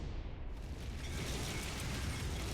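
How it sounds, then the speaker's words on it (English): Explosion in the Virche Evermore video game as an institute crumbles, a sustained broad roaring rumble that swells in its first half-second and then holds steady, fairly faint and without voices. "As a result of the explosion, the Institute began to crumble."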